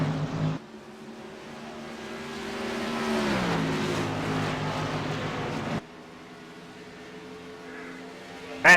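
Race cars at a TNT Tuesday night event at KMA Racing roar past side by side on the track, engines droning loudly and shifting pitch as they pass, then dropping to a steadier, quieter hum.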